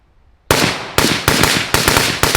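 A rifle fired through a Liberty Precision Machine Torch suppressor with a vented end cap: five sharp, loud suppressed shots at an uneven pace, each with a short ringing tail.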